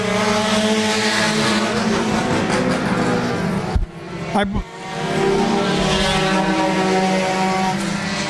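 Race car number 31 roaring around the track at Laird Raceway during a Thursday night race, a loud engine drone that dips briefly as it passes or lifts off, then climbs back to full throttle, with a commentator talking over it.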